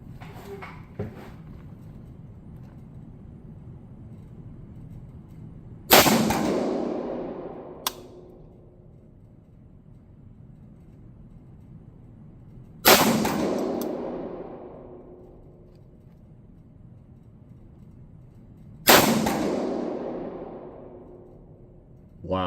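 A Cru Arms TEMP556 piston-driven rifle fires three single shots several seconds apart, each a sharp loud report with a decaying echo outdoors, with quiet background between them.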